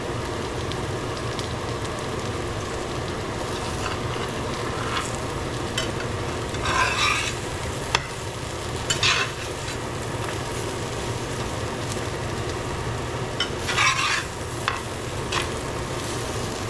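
Okra fries in a pan with a constant crackling sizzle, broken by occasional louder scraping bursts as it is stirred or turned.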